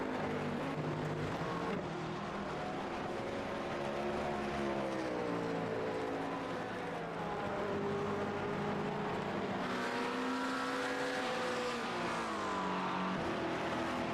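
A race car engine in a 24-hour endurance race sweeps through the Porsche Curves, its sustained loud whine rising and falling through gear changes and corners, continuous and close with no talking.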